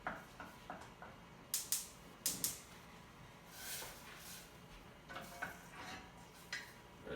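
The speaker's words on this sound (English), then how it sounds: "we're going to move the onions over to another burner" A pan of onions is shifted on the stovetop and stirred under a faint sizzle, with several sharp scraping clacks spread across the stretch and no talk.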